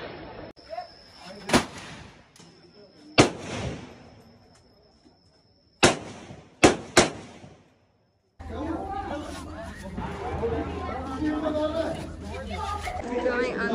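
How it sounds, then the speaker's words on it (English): Several sharp, loud gunshots ring out one by one with echoing tails, spaced irregularly, then give way to a steady crowd murmur and a low rumble. "I'm about to shoot a gun."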